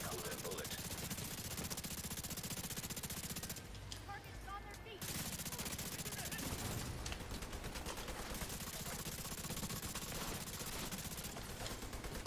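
Rapid automatic gunfire from The Division 2, a game firefight, sounds as dense overlapping bursts across nearly the whole stretch, with a short lull in the middle and a voice talking over the shooting.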